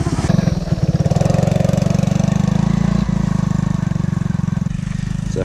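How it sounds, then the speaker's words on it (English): A three-wheeler engine running close by in the snow, a steady, loud, rhythmic putter holding for the whole stretch with a brief blip near the middle and nothing else over it. "The first time Skylar's driving the three-wheeler on his own without Dad on the back"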